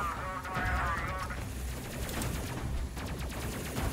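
Enemy gunfire strikes the ship in the space game Space Crew, a dense run of rapid shots and impacts going on throughout, with a voice talking over the barrage.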